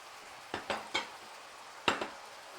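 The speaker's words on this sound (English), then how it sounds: "So I'm going to get the bowls out." Bowls are taken out for plating: a handful of sharp ceramic clinks and knocks, close and distinct, spaced unevenly over a quiet kitchen background.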